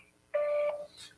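A single Google Voice tone plays over a phone call, a clean steady electronic beep lasting about half a second, fairly loud against a quiet line.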